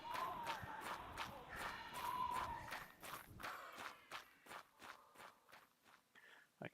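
Footsteps in the video game Star Explorers, with a rapid run of soft steps that grow quieter and sparser as they fade away, over a low background bed.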